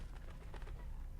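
A bird cooing in the puzzle video game The Room 3, a faint, soft, brief dove-like coo over a low ambient hum.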